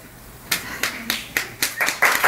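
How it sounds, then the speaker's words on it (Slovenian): Short, sparse applause at a press event: a few people clapping in scattered, separate claps that grow slightly denser toward the end, fairly close, with no talk. "Po kratkem aplavzu"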